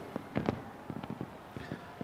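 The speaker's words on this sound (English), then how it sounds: "look at these fireworks as we zoom in on the fireworks right now" Fireworks show in Rio de Janeiro watched by a huge crowd, heard as faint, distant scattered pops and bangs in irregular bursts over a low background hum.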